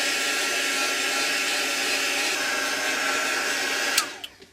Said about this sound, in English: Just get the heat gun. And see what happens when I dry it.